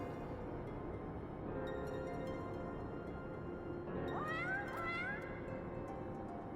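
A cat in Final Fantasy XIV meows in a short rising-and-falling cry over a steady game soundscape, with no talking.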